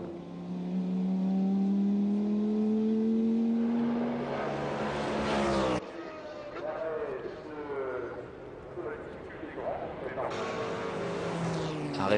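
Chrysler Viper GT race car, number 51, roaring past at the 1999 Le Mans 24 Hours, its engine note rising and then fading, under continuous French commentary.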